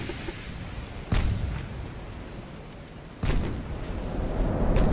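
Heavy naval guns boom twice in a warship battle from Ultimate Admiral: Dreadnoughts, each blast a sharp loud report rolling into a long rumble over steady low background noise, with a faint third shot near the end.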